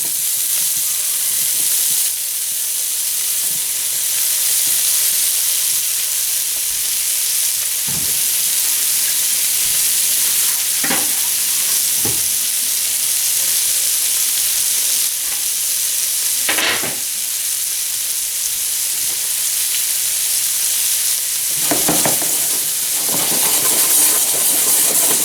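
Tomatoes and a splash of lemon juice sizzle in a hot pan for shrimp Provençal, a continuous close, bright hiss with occasional stirring scrapes and clinks, no talking.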